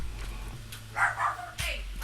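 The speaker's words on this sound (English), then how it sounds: "Tiny dog sighted." A tiny dog barks a few times in short bursts, distant and indoors, over a steady low hum and faint background voices.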